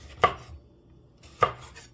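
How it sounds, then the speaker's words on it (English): A kitchen knife cuts through a vegetable for a potato, tomato and meat soup: two sharp chopping strikes on a board about a second apart, close and crisp, with quiet between them and no talk. "one more half to slice it"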